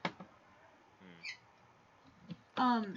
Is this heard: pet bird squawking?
yes